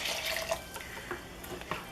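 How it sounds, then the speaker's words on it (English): Beef stock pours steadily into a crock pot, making a faint, continuous liquid splash with small bubbling accents. "I'm doing 4 cups of beef stock and 2 cups of water."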